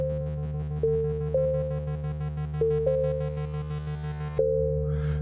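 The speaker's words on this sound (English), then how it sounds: "Let me come up with a cool little bass sound for the key of D." A synthesized bass tone in the key of D holds steady, with several brief pitch dips and faint higher harmonics, ending with a short noisy flourish.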